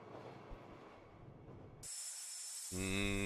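A train in the Persona 4 Golden video game rumbles along on a low rolling track, then cuts to bright sustained electronic chime tones that swell louder at the end.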